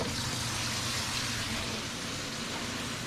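Tap water runs steadily into a sink while dishes are washed, a soft continuous gushing hiss that holds at an even level with no voices.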